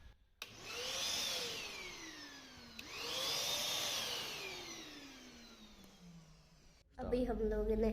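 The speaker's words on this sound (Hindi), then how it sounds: "अभी हम लोगों ने वैक्यूम लगा दी है।" A vacuum cleaner used for cleaning a village mosque switches on twice, each time revving up to a loud whine that slowly winds down, followed by a burst of nearby voices.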